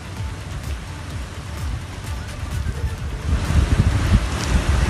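Blustery storm wind with steady rain outdoors in Ghaziabad or Delhi, a continuous broadband roar with low gusty rumbles that grow louder toward the end, no voices.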